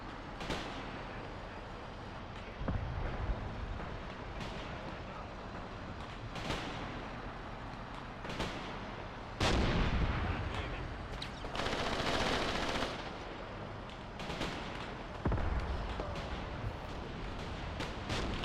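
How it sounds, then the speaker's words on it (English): Machine-gun bursts and heavy artillery fire rumble across a World War II battlefield in Graviteam Tactics: Mius Front, with repeated booming impacts and continuous crackling gunfire that rises and falls without letup. "That MG gun firing on the enemy infantry."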